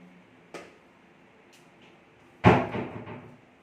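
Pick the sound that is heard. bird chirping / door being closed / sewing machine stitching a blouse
door being closed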